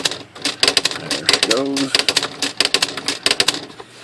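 Smith Corona Electronic H Series typewriter typing and lifting off errors with its correction ribbon, rapid close key strikes in uneven bursts with a brief whirring carriage movement midway, while someone speaks briefly over the clatter.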